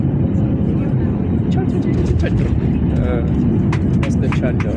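Airliner touching down at Fuzuli International Airport in Azerbaijan, heard from inside the cabin as a loud, constant roar of engines and rushing air with faint rattles and thumps, and people talking over it.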